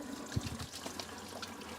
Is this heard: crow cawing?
no